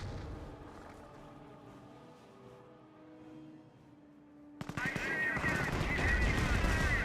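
Bursts of automatic and rifle fire erupt loudly in a Company of Heroes battle, dense rapid cracks filling the last couple of seconds after a quieter stretch of game ambience.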